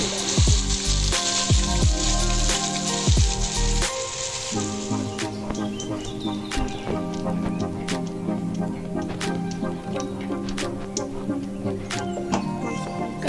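Ground gravy paste hits a hot pan and sizzles steadily with a bright crackling hiss and scattered pops while cooking Indian malai soya chap, loud and continuous, with a few brief knocks near the start.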